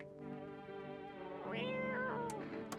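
A cat in the video game No, I'm Not A Human gives a few drawn-out, rising and falling meows, soft and close, over a steady low background hum.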